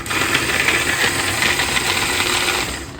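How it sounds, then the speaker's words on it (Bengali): An electric chopper whirs steadily for about two and a half seconds as it chops garlic and green chillies, with blades rattling the pieces inside the bowl, close and loud, then it stops. "ফার্স্টে আমি গার্লিক আর লঙ্কাটাও একবারে চপ করে নেবো"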